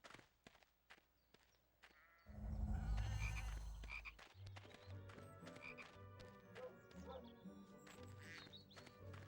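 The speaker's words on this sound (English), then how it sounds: "You'd have to knock the frog out before you can catch it." A chocolate frog croaks repeatedly in the Harry Potter and the Chamber of Secrets PS2 game, loud and close over game sounds and footsteps.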